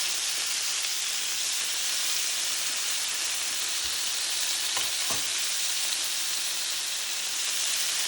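Shrimp sautéing in a hot pan, a steady bright sizzle that runs throughout, broken once by a couple of brief clinks near the middle.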